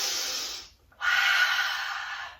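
Deep, slow breathing during a yoga high lunge: a long airy exhale, a brief pause, then a fuller, louder inhale, close and alone with no talk.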